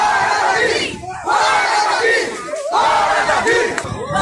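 A loud, close crowd chants "Fora Davi" in rhythmic unison, a Brazilian fan crowd in Amapá greeting a presidential visit, with the chant rising and falling in repeated waves.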